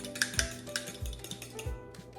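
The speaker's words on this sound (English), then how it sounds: "So I'm going to go ahead and beat the eggs." Eggs are beaten in a bowl for cornbread, with a utensil clinking against the bowl in quick, uneven strokes. The taps are light and close, with no talk.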